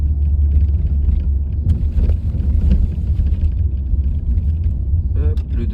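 A Renault Mégane 4 with a 1.0 engine rolls over two large speed bumps, a steady loud low rumble of engine and road noise with a couple of dull suspension thumps, no voices.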